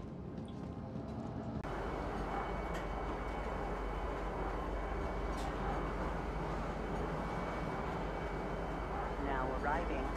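Train arriving at a station in the Star Citizen video game: a steady, loud rumbling rush begins suddenly after a quiet moment and carries on evenly, with a voice speaking over it.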